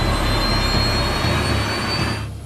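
Airliner jet engines roaring during the takeoff roll, a dense steady whine and rumble heard loud and close, fading slightly at the very end.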